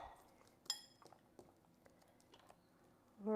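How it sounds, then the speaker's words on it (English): Brief clinks and crumbly taps of onion pieces being broken up into a pan for curried prawns, close and intermittent, with a sharp knock near the start. "I tend to break up the onion a bit before I put it into the pan, so let's do that now"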